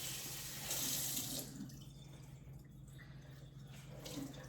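Tap water runs steadily into a sink to wet paper towels, a soft continuous stream with a brief stronger gush near the start, quiet and close with no talking.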